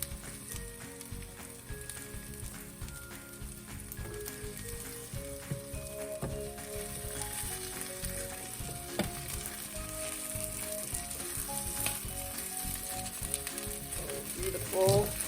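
An omelet fries in a pan with a continuous close sizzle, while faint tonal background music and a few small clicks sit beneath it.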